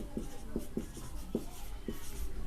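Chalk or marker writing on a board during a chemistry class, a series of short scratchy strokes at an uneven rhythm over a steady faint room hiss.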